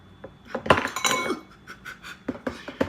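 Ice cubes spill into a glass holding cranberry juice, a scattered run of sharp clinks and clatters, some bunched together and some spaced out, close and with no talk.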